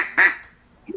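Duck quacks, a bright nasal squawk followed by a softer, shorter one, close and loud in a quiet room during a livestream, with no other talk around them.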